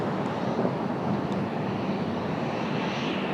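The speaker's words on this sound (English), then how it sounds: "That 757-300 coming across over here somewhere." A Boeing 757-300 airliner passes over the airport, its broad jet engine roar steady and continuous throughout, fairly loud and unbroken with no voices.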